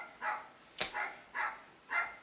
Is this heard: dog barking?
yes